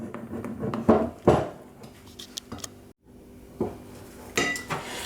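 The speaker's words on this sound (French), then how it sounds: "avec une maryse, bien passer autour et dessous la pâte pour éviter de se retrouver avec un bloc de farine" A spatula scrapes around and under baba dough in a bowl, giving a series of irregular scraping and clinking strokes against the bowl, moderately close with a brief pause partway through.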